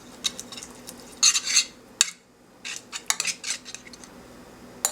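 A utensil spreading sofrito across the bottom of a 12x9 baking dish, bursts of close scraping and clinking strokes separated by short pauses.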